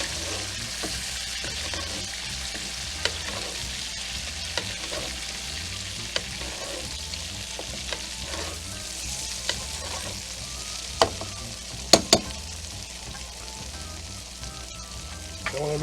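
A Monte Cristo sandwich with Gouda cheese fries in butter in a pan, crackling and sizzling steadily up close, broken by occasional sharp clicks and scrapes from basting and flipping, with no talk over it.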